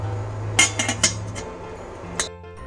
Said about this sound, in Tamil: ஸோ நம்ம வந்து இப்போ மூடி வச்சிடலாம்